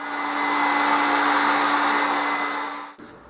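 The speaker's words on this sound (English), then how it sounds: "So I'm going to leave them and blow dry it and see what we have." A hair dryer blows steadily at close range over a smoosh painting, a loud broadband whooshing roar with a faint motor hum that holds for about three seconds before switching off abruptly.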